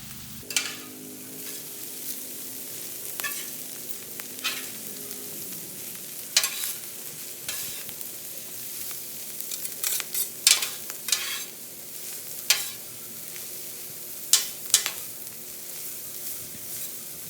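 Cabbage for vegetable lumpia frying on a large flat top grill gives a steady sizzle throughout, broken by frequent scraping and stirring clicks from a spatula, with no talking.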